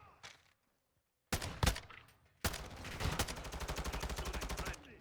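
Rapid automatic gunfire in the video game Modern Warfare 2, a short burst followed by a longer sustained stream of evenly spaced shots, loud and close, with brief gaps between.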